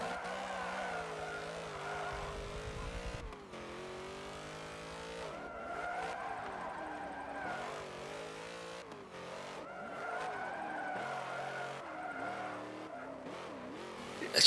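A Hummer drifting in Forza Motorsport 7: a continuous engine roar with squealing, skidding tires runs steadily throughout, loud and close, with no talking.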